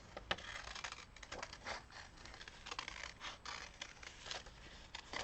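Scissors snip pieces out of a paper calendar of Utah's red rocks, giving quiet, close, irregular crisp cuts and paper rustles.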